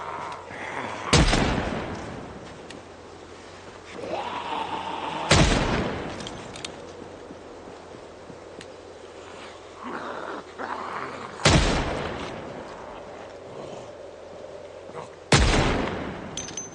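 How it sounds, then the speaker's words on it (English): Gunfire in the video game Project Zomboid, four loud sharp shots spaced several seconds apart over a quieter game background with scattered lesser sounds. "we'll just hop out and shoot them"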